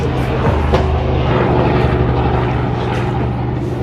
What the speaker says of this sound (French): On vient d'être repéré par un hélico.